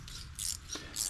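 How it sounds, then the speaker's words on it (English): An 11 millimeter ratchet wrench turning on a G900 axle during pinion seal work gives two bursts of bright, close ratcheting clicks with a short pause between, and no talking. "11 millimeter ratchet wrench works pretty good too, so we'll just do that"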